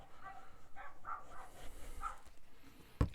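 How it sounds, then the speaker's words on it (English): A neighbour's dogs bark next door, a few distant, muffled yaps spaced out at a low level, with a sharp knock near the end. "next door's dogs are now kicking off"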